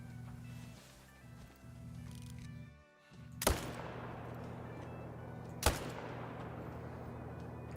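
Two sharp gunshots crack out seconds apart in a hunting video game, loud and abrupt against a steady low ambient hum.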